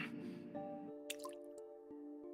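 In the video game Beyond Cloud Fall, liquid drips and splashes: a wet squishy splatter, then a few distinct drips over a low sustained tone, fairly quiet and close.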